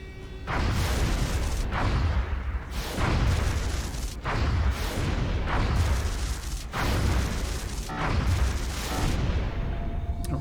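Interceptor aircraft weapons fire at a UFO in XCOM Enemy Within: a series of about five heavy, booming blasts spaced roughly two seconds apart, loud and close, each trailing into a rumbling decay, with no voices.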